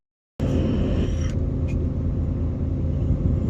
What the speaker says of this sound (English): Sorry, truck's a little loud. It sometimes needs me to do a manual regen.